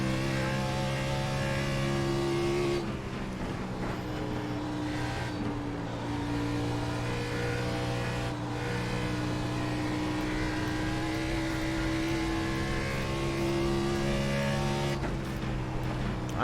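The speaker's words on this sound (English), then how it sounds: "There's a car leaving the pits." An Xfinity race car accelerates out of the pits at Dover Speedway, its engine a loud, sustained high drone with steady harmonic whine that shifts pitch several times, as if through gears, continuous throughout with no talking.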